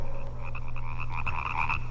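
A frog croaks in a rapid, continuous pulsing rattle, close and steady for two seconds over a low background hum.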